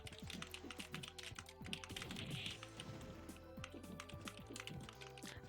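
Rapid, uneven computer keyboard key presses during a fighting game, clattering steadily and close over quiet game sounds for the whole stretch.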